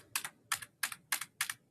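Five quick, crisp double clicks as keys are tapped on a computer keyboard during video editing, evenly spaced and close up in a quiet room.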